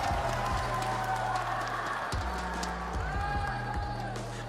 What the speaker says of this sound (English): Make some noise for these guys right here, crowd